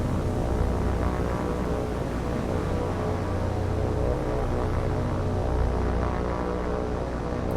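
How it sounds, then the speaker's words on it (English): Steady propeller aircraft engine drone in a naval combat game, War on the Sea, heard as a continuous broadband roar at an even level throughout with no talk. "Where did that plane go?"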